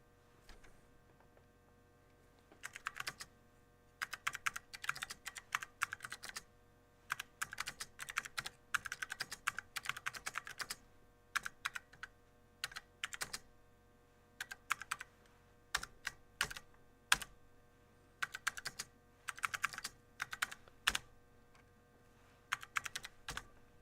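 Keys on the switches of an Apple IIc keyboard are typed on in bursts of quick plastic clicks, fairly close, with short pauses between runs over a low steady hum.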